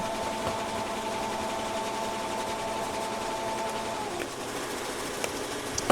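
A Bai Vision commercial embroidery machine stitching with matte thread, a steady, moderately quiet mechanical whir with a constant tone that shifts partway through, followed by a few light clicks.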